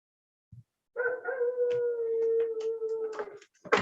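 A dog howls outside a window, one long sustained wavering howl lasting a few seconds, fairly faint and distant, with some scattered small noises nearby.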